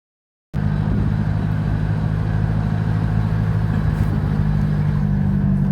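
Steady, close car engine drone with low rumble and road noise on a casual joyride, starting abruptly and holding constant without a voice over it.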